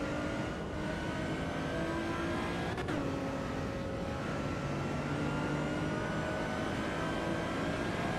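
A lower-performance race car in the Assetto Corsa Evo racing game holds a steady droning engine tone, shifts gear with a brief drop, then climbs again, continuous and moderately quiet with no talking.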